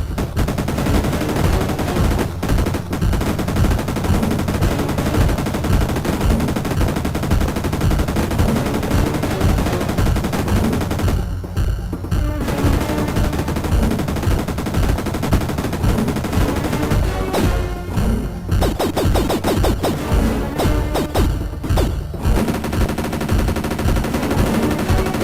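Rapid, continuous gunfire from enemies hidden in the trees in the SNES game Jurassic Park 2: The Chaos Continues, a loud, unbroken stream of shots with brief dips in intensity and no voices.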